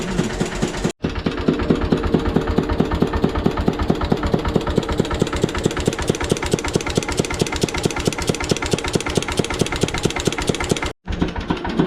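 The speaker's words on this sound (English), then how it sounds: "that's an old Lister generator" An old single-cylinder Lister generator powering a workshop runs with a loud, rapid, even thumping beat, broken by two short gaps where the pulse drops out.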